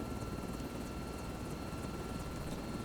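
Steady engine drone of an aircraft taxiing to general aviation parking in Microsoft Flight Simulator 2024, a constant broadband rumble with a thin high whine that holds evenly throughout without talk.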